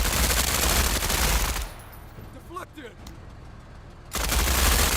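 An SMG loaded with rend ammo fires in Menace: a long, loud burst of sustained automatic fire, a quieter pause with faint game sounds, then another heavy burst.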